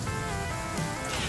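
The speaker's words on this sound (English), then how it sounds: "now that it's raining so much" Heavy rain falls in the survival video game The Flame in the Flood, a soft, steady patter and hiss with no voices over it.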